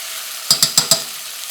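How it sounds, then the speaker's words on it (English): A spoon taps ground meat in a pan for shepherd's pie, four quick sharp knocks in a row over a soft background sizzle, close and clear. "all I'm doing with my spoon is just tapping this out to get more surface contact for the meat"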